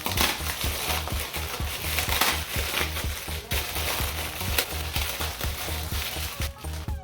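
Uncooked instant noodles crumbled by hand inside their crinkly plastic bag for Nepali chatpate: a steady, loud stream of crunching, rustling and crackling, close up and continuous, with no voices.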